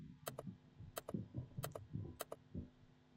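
Keys on a computer keyboard tapped in quick pairs for a Control Z undo shortcut in Photoshop CS6, four crisp double clicks spaced evenly over a low background murmur.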